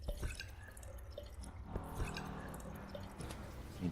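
Water fills a container in the survival game Obenseuer, a soft, faint trickle with small drips and squishy splashes over a quiet background.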